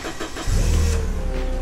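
A fork truck engine cranks with a few quick chugs, then catches and settles into a loud, steady low rumble close by, with no talking.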